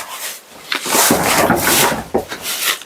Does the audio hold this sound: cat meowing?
no